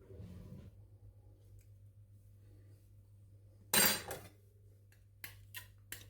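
A knife strikes and pries an avocado stone loose for guacamole, giving one sharp clack followed by a few light taps and clicks in an otherwise quiet kitchen with no talking.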